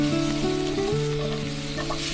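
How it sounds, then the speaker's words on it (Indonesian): Fried rice (sego goreng) being cooked in a pan during a scene from the Korean drama Itaewon Class: a constant close sizzle and stirring, layered with sustained tonal hums that shift pitch partway through. "terlihat Roy memasak sego goreng"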